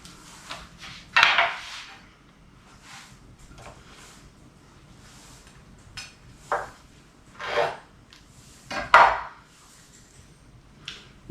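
A knife scrapes the last of the sour cream out against a small bowl while a sauce is prepared for a hamburger meal, with several scattered clinks and scrapes of metal on the dish between quiet pauses.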